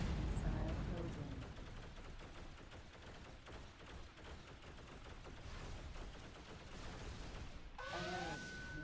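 A swarm of missiles strikes a ship in the space game X3: Terran Conflict, heard as a dense, continuous crackle of rapid impacts and blasts, loud and sustained, with a brief tonal alert near the end.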